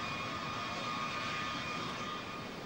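Engines of military transport aircraft, older K models with underwing fuel tanks and newer glass-cockpit J models, drone steadily at an air show, a continuous broadband roar with a faint whine, no voices.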